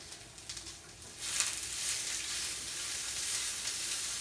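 Onions browning in a frying pan while being stirred, a close steady sizzle with faint scraping that grows slightly louder and hisses continuously, no talking.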